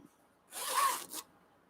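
An old, long-stored zipper from a thrift find is pulled along its teeth once in a quick, close rasping zip lasting under a second, followed by a brief softer scrape, with near silence before and after.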